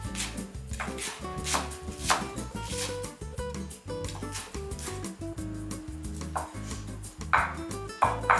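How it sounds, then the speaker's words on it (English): A knife chops vegetables on a cutting board in a steady run of rapid, crisp knocks for a fine julienne chop, close and continuous, with some clatter from dishes. "Or you can do again that julienne straight down cut for a finer chop."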